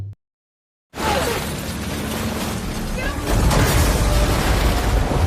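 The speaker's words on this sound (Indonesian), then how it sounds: "Karena gedung kaca itu terlalu kuat, akhirnya Emma memutuskan untuk menabrakkan perahunya" In a disaster film, a boat rams through a glass building, bursting into a loud shatter and crashing debris that build into heavy rumbling destruction, with music underneath.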